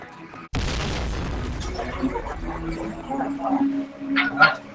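A sudden loud bomb explosion in a video game bursts out, followed by rumbling game noise, scattered clanks and a dog-like yelp near the end.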